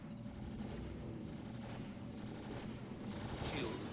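Sustained gunfire in the Star Citizen space game, a dense continuous barrage of rapid shots and impacts that holds steady and loud throughout, with a brief voice near the end.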